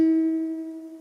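A single guitar note, E played on the B string at the fifth fret, rings out clearly with a sharp pluck and a sustained, slowly fading tone, alone with no talking.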